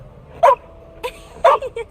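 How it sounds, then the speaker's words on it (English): A dog barking in the video game The Inquisitor, two short yapping barks about a second apart, each followed by a smaller yip, close and clear. "What a lovely dog!"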